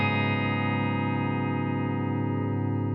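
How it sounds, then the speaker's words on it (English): A single sustained guitar chord, capo on the fourth fret, rings out with a bright, effect-heavy math rock tone, holding steady for a few seconds before cutting off. "we're gonna put the capo on the fourth, and you're gonna get this sound"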